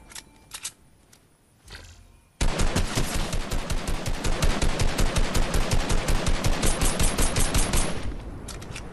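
Gunfire in Fortnite: after a couple of scattered early shots, a loud, sustained burst of rapid automatic fire starts abruptly and hammers on evenly for several seconds before stopping.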